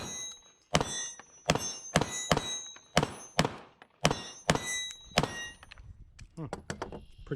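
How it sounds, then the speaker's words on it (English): A new CANIK SFX Rival pistol fires a string of sharp, loud shots in quick succession, about ten cracks with short gaps, followed by ringing and clatter at the end. "First shots with the brand new CANIK Rival."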